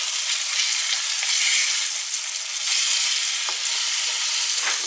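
Fish sizzling and frying in a hot pan, a loud steady crackling hiss with small pops throughout, no voices.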